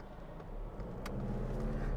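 A car heard from inside while driving, with a steady low engine and road rumble that builds slightly, plus a brief click partway through.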